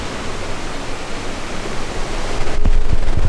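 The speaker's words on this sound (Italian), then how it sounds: "Ci sono queste cascate, questa gola davvero molto bella." Waterfalls in a gorge on the Troncone torrent near Alpe Casaravera, a loud steady broadband roar of rushing water, close and continuous, swelling slightly louder toward the end with a few low thumps.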